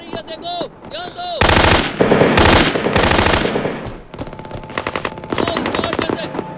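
Loud bursts of automatic gunfire in a Hindi-dubbed action film, rapid rattling volleys coming in several sustained bursts with brief gaps, near and dominant, with voices briefly heard between them.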